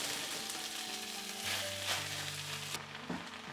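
Sausages frying in a pan give a steady close sizzle and crackle for a few seconds, with faint background music tones and no talking.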